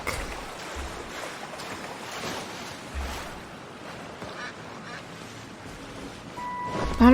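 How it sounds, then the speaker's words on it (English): Ducks quacking and honking in Genshin Impact, repeated nasal calls over steady game ambience and water sounds, with a louder burst at the end. "Get out of the way, duck."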